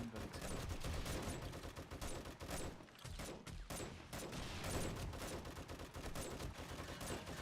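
Dense sustained gunfire in 7 Days to Die, overlapping shots and rapid bursts firing continuously at a pole, loud and close with brief dips, no talk.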